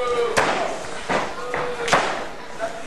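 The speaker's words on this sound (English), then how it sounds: "A right and a kick to the gut." Wrestling strikes at an indoor show, a punch and a kick to the gut landing as sharp thuds and slaps, several spaced apart, under a commentator's voice and crowd noise.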